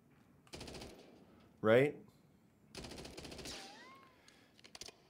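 Two rapid bursts of automatic fire from a 5-round-burst rifle in Call of Duty MW3 multiplayer, sharp and close, with a short spoken word and a brief electronic tone between them.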